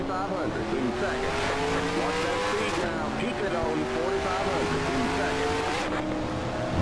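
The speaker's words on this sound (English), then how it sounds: "See a car tumbling." Race car engines in NASCAR Racing 2003 drone loudly and continuously as cars race and one tumbles in a wreck, with tire noise mixed in and a voice talking over it.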